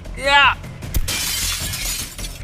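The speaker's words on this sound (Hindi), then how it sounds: "ये कांच तो चकनाचूर हो गया" Glass shattering in a bank: a sharp crash followed by a long bright spray of breaking shards, preceded by a vocal cry and ambient rumble.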